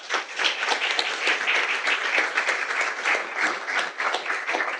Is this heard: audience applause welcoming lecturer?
yes